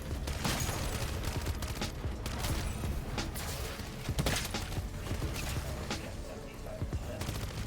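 Dense gunfire from shooting zombies in Modern Warfare Zombies, with rapid bursts of shots that crack steadily over several seconds, loud and continuous, mixed with game effects and a voice talking now and then.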